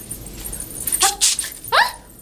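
Over faint background hiss, a nearby dog gives a few short yips and whimpering barks in quick succession.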